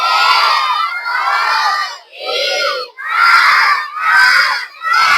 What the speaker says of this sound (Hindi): सब बच्चों को स्पीड में तेज आवाज में गिनती बोलना हिंदी में